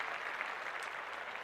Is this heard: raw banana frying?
no